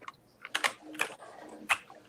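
Typing on a computer keyboard by someone working with a stitched-up finger: a few irregular bursts of clicking keystrokes, close and fairly quiet, with pauses between clusters.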